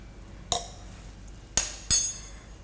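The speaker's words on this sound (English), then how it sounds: "grab yourself a tablespoon and make sure everything is actually mixed really well" A tablespoon stirring ground coffee for a soft brew: three separate metallic clinks against the brewer, one alone followed by a close pair, in an otherwise quiet room.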